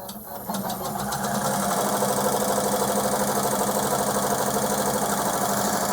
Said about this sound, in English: I'm going to hit start and let it sew part of this next letter.